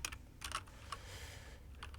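Quick bursts of typing on a computer keyboard, clustered keystrokes clicking at an uneven pace over a low steady hum, close to the mic and without speech.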